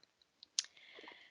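Mouse clicks in chemistry structure-visualisation software: a few faint, sharp clicks, one louder click near the middle, then a soft, low-level ticking tail. No one speaks.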